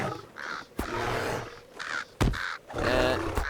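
Crows cawing in The Lord of the Rings Online, several harsh caws in bursts with a couple of sharp hit or thud sounds between them, fairly loud and close with no talking.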